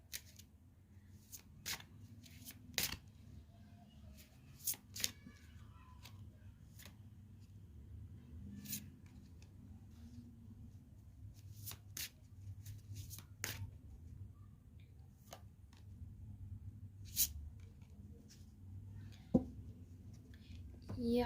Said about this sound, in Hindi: मैं आपकी प्रेजेंट की एनर्जी के कार्ड्स और निकाल लेती हूँ